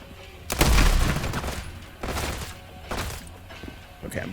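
Bursts of gunfire in the video game Transience, three or four heavy booming volleys spaced about a second apart with rumbling low end, loud and close, without talking.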